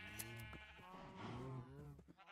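Sheep in Minecraft bleat several times in quick succession, wavering calls close and fairly loud over a low background hum.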